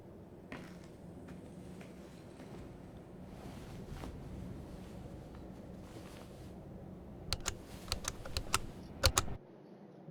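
Typewriter keys clack in Layers of Fear, a quiet, sparse patter under a steady murky ambience, then a burst of sharp, louder strikes near the end before the background drops away.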